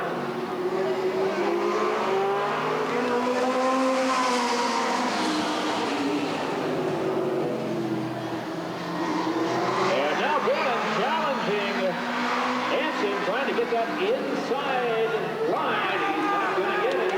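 Super stock race cars roar around the Redwood Acres Raceway oval during a trophy dash, engines rising and falling as they pass, loud and continuous with a track announcer talking over them.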